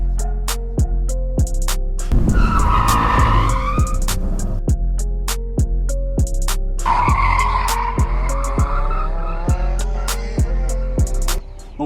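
A Renault Twingo RS skids with long tire squeals over a rapid, steady series of sharp ticks, with two strong sustained screeches near and loud at the middle.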